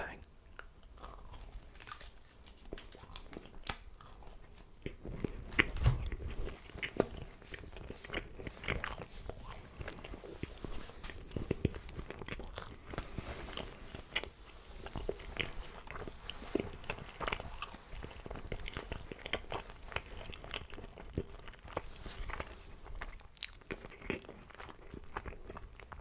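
Close, crisp bites and moist chewing of Domino's pizza at a mukbang, with repeated crunches over a steady stream of mouth sounds for the whole stretch and a faint voice now and then.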